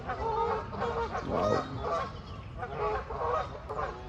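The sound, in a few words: Canada geese fighting and honking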